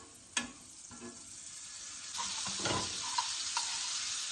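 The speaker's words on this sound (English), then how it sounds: "I love my butter, so butter into the pan it is" Butter sizzles in a heated pan, starting as a faint crackle with a couple of sharp clinks and swelling into a steadier hiss for the last two seconds.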